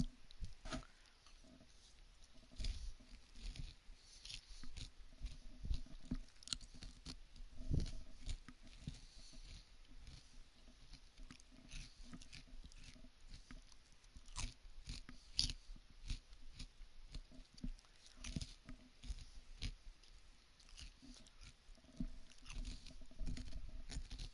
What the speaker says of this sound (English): I know y'all hear me crunching, I'm sorry.